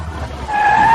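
A car skids to a stop as someone blocks its path, a short loud tire squeal rising into a sustained high screech over engine rumble.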